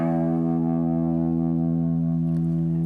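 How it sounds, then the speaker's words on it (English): A single low E string plucked on a guitar, ringing out as a sustained, harmonically rich tone that holds steadily for about three seconds, close and clear with no talk. "So the low E sounds like this."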